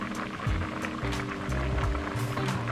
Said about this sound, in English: My pan's still nice and hot, so I'm gonna add my sauce.